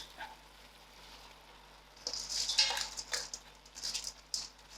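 A spoon stirs a one-pot vegetarian biryani with soya chunks, rice, potatoes and roasted carrots in a pot, giving soft scraping and clinking against the metal in a few short bursts over a low background hum.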